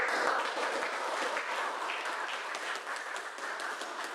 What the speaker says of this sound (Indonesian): Kita kasih aplaus dulu untuk seluruh peserta diskusi.